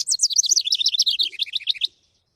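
A house wren sings a rapid bubbling trill of bright chirps that falls slightly in pitch and lasts about two seconds, close and clear against silence before stopping abruptly.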